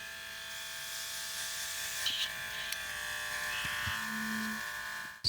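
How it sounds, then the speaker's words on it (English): Airbrush spraying paint over air dry clay flowers on canvas, a steady hissing buzz of the compressor and spray, continuous and close, ending with a brief clunk. "I'm just going to finish what's in the airbrush"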